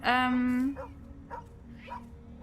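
A dog barks in the Tales of the Neon Sea video game: one long, loud, drawn-out yelp at the start, followed by three short, fainter barks spaced evenly through the rest of the clip.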